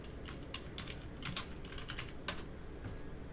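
Fingers tap out a search on a computer keyboard, a fast uneven run of light plastic key clicks with a few heavier strokes, close and alone.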